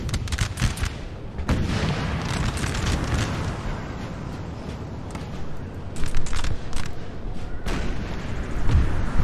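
Artillery in a Napoleonic Total War 3 mod battle, heavy cannon booms and distant rumbling volleys rolling continuously, loud and dense throughout with overlapping blasts.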